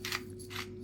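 Pepper mill grinding pepper onto air fryer chicken, two short gritty scraping bursts, close and clear, over a steady background hum.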